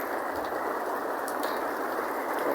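Rain falls at night on birds sitting on their nest, a steady even hiss of drops with no break and no voices.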